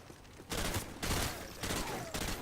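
Sustained automatic gunfire in Call of Duty: Modern Warfare 2 comes as loud, dense bursts, with short lulls between volleys and a continuous wash of battle noise underneath.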